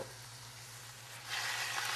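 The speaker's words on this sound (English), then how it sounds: "If you want to take a little extra second right now, deglaze again and reduce." A roast pan with wine poured in to deglaze it sizzles in a soft, steady hiss, faintly hummed through, that grows brighter and louder halfway through as the liquid hits the hot pan.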